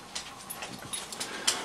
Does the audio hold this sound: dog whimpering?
yes